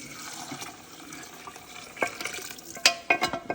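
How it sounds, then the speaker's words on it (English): Water is poured into a pot while Cajun dirty rice cooks, with splashing and liquid gurgles building toward the end, plus sharp clinks and scrapes from the pan. "I'm adding some water to that so I can scrape up the bottom of this and put all it in my pot"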